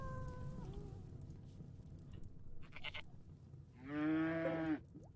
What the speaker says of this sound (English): We have a random male goat, which is an adult.